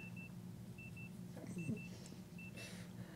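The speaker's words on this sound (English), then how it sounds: "That's the that's the temperature alarm going off." Temperature alarm in a warm studio giving short repeated high beeps in pairs, fairly faint over a steady low hum, with brief handling noise partway through.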